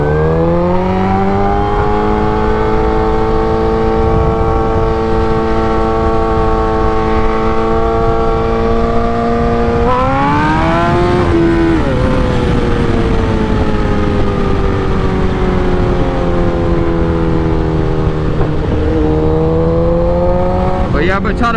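A repaired motorcycle on a highway test ride drones loud and close, its engine holding a steady pitch, then rising and dipping as it shifts and accelerates, with wind rush underneath.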